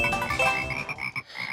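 Several frogs croak in a video game, a dense cluster of rapid, buzzy croaks that thin out into a few separate calls toward the end, close and steady, with no voices.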